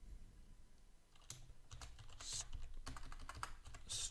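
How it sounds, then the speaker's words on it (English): Computer keyboard typing in irregular bursts of close, crisp keystrokes while entering a code comment during game development, over low background hum. "Let me type a comment."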